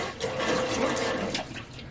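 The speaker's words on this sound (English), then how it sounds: "We have a working pump." A sump pump on a sailing boat discharges shower water in a steady, continuous gushing and splashing rush that holds for about two seconds at close range, with no talking over it.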